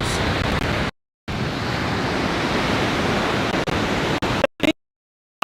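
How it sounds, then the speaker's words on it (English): Ocean waves washing onto an Australian beach, a steady broad rush of surf with wind noise, heard from close by and broken by several abrupt dropouts to silence, with no one speaking. "Look at these waves."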